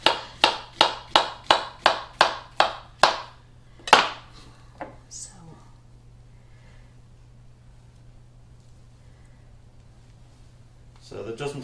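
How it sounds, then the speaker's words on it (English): A knife cutting a banana into slices on a board, about ten crisp evenly spaced chops in quick rhythm, then a final cut and near silence with a faint steady hum. "So I'm going to do some nice slices. I want to taste that banana."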